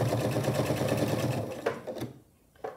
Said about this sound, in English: I'll sew about 1/8 of an inch seam allowance right along the edge